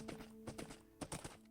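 Minecraft horse hooves clip-clopping in a short run of close, uneven steps, several quick hoof beats in bursts with brief gaps between them.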